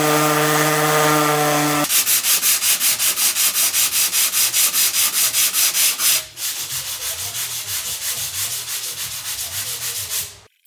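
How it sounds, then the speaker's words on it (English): Bondo body filler is being sanded on a crashed Nissan 240sx, a loud rapid rhythmic rasping that cuts out briefly and then resumes, preceded by a short motor whine at the start. "all of this stuff is just time to sand down and put regular Bondo over it"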